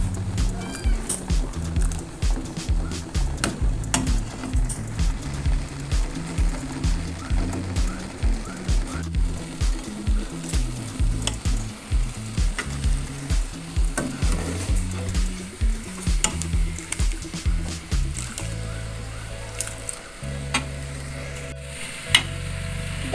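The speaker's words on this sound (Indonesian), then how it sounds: "Kita aduk-aduk." A spoon scrapes and stirs Minang-style moringa leaf curry in a pan that is close to boiling, with repeated rhythmic scraping strokes over a soft bubbling simmer throughout.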